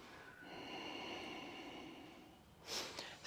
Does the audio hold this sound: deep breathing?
yes